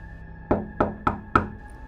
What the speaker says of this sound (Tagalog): may kumatok sa pintuan ng bahay namin